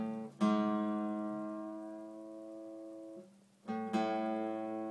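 Two guitar notes ring out clearly during tuning, the low E string fretted at the 5th fret against the next string, each plucked and left to sustain and slowly fade, with a brief pause before the second pair is struck.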